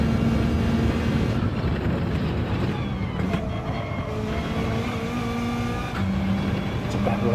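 Group 4 race cars in a video game at Dragon Trail Seaside, a loud steady engine drone with rising and falling revs from several cars together, while a voice speaks over it.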